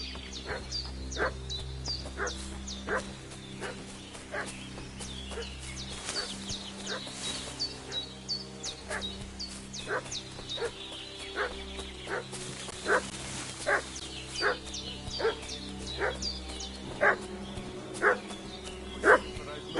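A village dog barks over and over in Kingdom Come: Deliverance II, a steady run of sharp yaps with the occasional whimper, set against a low background rumble and heard with no voices.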